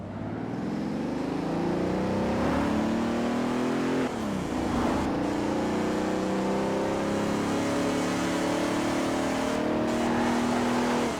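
A 1991 Bentley Turbo R in Forza Horizon 4 accelerates at full throttle, its engine droning loud and steady, pitch climbing through the gears with a brief dip at a shift, continuous with no talk.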